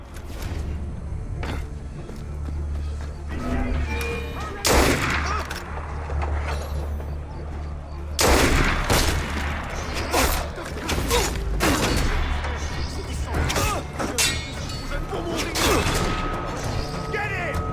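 Repeated gunshots and crashing impacts in the stealth action game Assassin's Creed Unity, loud bursts scattered through a busy battle scene with footsteps and mechanical clatter, voices talking at times.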